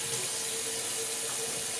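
Water running steadily from a tap, a continuous even hiss and splash with no pauses, fairly close and without any voices over it.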